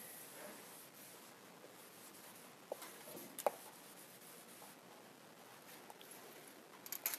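A pencil draws lines on paper for technical drawing, with a faint, soft, scratchy rubbing in short strokes and a few light taps, quiet and close.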